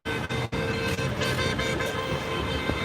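Car horns honk at a street protest and memorial in Gardena, sustained blasts layered over steady traffic rumble, fairly loud and close.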